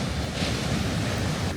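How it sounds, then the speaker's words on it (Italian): Rough Italian sea waves pound a beach that the water has nearly swallowed, a loud, constant roar of surf with wind buffeting the microphone and no distinct breaks between crashes. "il mare è ancora Abbastanza arrabbiato"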